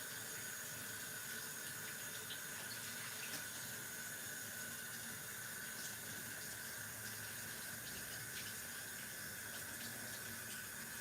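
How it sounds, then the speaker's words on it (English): A tap runs steadily into a sink while a kitchen knife is rinsed under the stream, making a constant faint splashing hiss with small clinks, continuous throughout and with no speech. "I'm going to wash my knife because I need that for the onions now."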